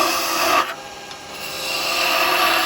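A skew chisel shears across spinning wood on a lathe, a steady broadband rasping hiss that drops off briefly near the start and then returns and builds into continuous close cutting.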